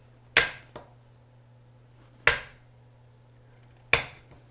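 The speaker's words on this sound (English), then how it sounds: "I'm slicing them up in 1/2 inch chunks as I go along through the butter" A knife cuts through cold butter strips for a pie crust, three crisp chopping strikes each followed by a short decay, close and clear with a small extra tap after the first, no talk.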